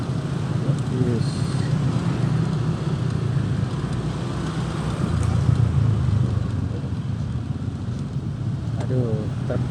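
Road traffic on a congested arterial road with a truck climbing uphill, a steady low engine rumble and roadway noise close by amid wind buffeting on the microphone, while a rider talks over it.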